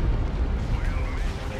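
An orbital bombardment strikes in a 3v3 Dawn of War 2 battle, a loud, dense rumbling blast that fills the whole moment, with a commentator's voice over it.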